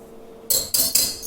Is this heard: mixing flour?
yes